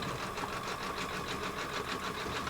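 An embroidery machine runs slowed down while stitching a stained glass table runner, giving a steady, even mechanical whir with a fast repetitive pulse throughout.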